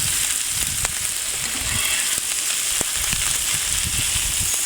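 Chinese five spice duck Cajun fried rice stir-fried in a pan, with steady close sizzling and frying crackle broken by occasional sharp clacks and scrapes of tossing and folding, no voices.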